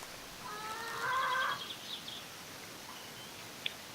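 Vulture bird in the game 7 Days to Die giving a brief, moderately clear screeching call with a few harmonic tones, followed by faint chirps against a quiet background.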